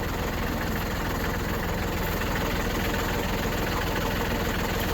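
A tractor fitted with a New Holland 7308 loader drives forward, its engine a steady, loud, close rumble with an even low throb throughout and no talking.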